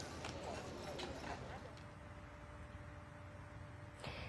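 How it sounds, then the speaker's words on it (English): Hooves of a horse pulling a funeral carriage clip-clop in a quick, regular rhythm on pavement near Southern Pines, loudest at first and then fading under steady ambient noise, with a person talking over it. "A horse and carriage transported her body to its final resting"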